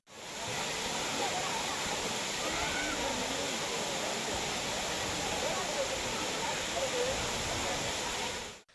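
Megamalai waterfall in spate after rising water flow, a steady broadband rush of falling water that holds constant and fairly loud throughout, with no voices.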